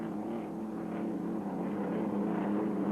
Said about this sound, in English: That's the Merlin engine-powered boat against the turbine engine of the Miller American.